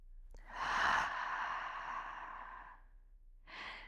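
Deep belly breathing ending in a long, audible exhale through an open mouth, close and breathy, followed by a short second breath after a brief pause.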